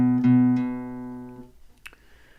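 A single guitar string pressed against the fret and plucked rings out as a clear sustained note with strong harmonics, fading over about a second and a half before a faint handling tap.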